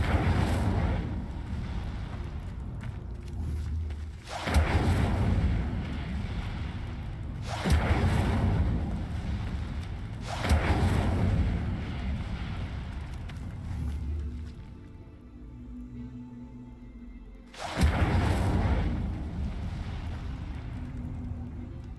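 The Incendio fire spell in Hogwarts Legacy bursts out in repeated whooshing, roaring blasts, about five loud surges spaced a few seconds apart with quieter rumbling gaps between them.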